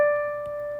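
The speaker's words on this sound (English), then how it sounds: "This second D would sound like this." A single higher D note played on a keyboard, one clean sustained tone with steady overtones that fades gently, alone with no talk.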